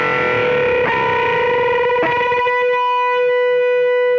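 Distorted electric guitar holding a unison bend, with the third string pushed up against a steady B string so the two notes beat and then settle together, ringing loud and sustained on its own.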